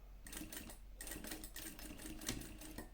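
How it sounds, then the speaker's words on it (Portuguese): A sewing machine stitches a small leather wallet slowly in short uneven runs, its needle clatter stopping and starting several times at close range, with no speech. "eu tenho que ter esse cuidado de ir costurando devagarzinho, do jeito que eu estou fazendo aqui"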